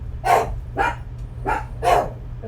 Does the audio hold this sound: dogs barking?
yes